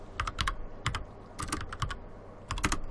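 Someone types one-handed on a computer keyboard, giving irregular clusters of crisp, close key clicks with uneven gaps between the bursts.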